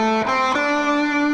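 Distorted electric guitar playing two pinch harmonics on the G string, squealing upper overtones over a sustained note that shifts pitch twice, loud and close with no voice.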